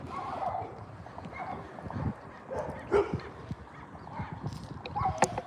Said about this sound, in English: Oh, these freaking dogs, man.